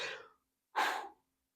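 A person yawning during an amateur APA 8-ball pool match: two soft, breathy bursts about half a second apart, the second a little stronger, close and quiet with no talk.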